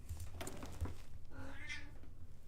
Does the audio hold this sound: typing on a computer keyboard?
no